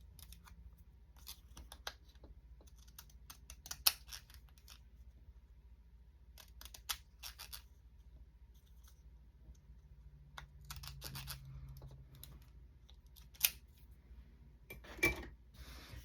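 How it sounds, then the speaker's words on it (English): Pinking shears snip through paper in short bursts of crisp, crunchy cuts separated by quiet pauses, close and fairly faint, with a few sharper clicks. "Pinking shears. That's what it was."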